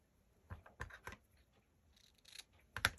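A few quiet, crisp scissor snips cut through a vintage collar, spaced irregularly with a slightly louder final snip, close and isolated in a quiet room.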